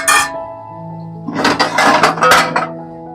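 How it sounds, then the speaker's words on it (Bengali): A metal pot lid is set over a simmering fish curry: a sharp clink at first, then a cluster of rattling clanks and scrapes as the lid settles, close and clear with no talk. "আমি এবার মাছটা হালকা করে ঢেকে দিলাম"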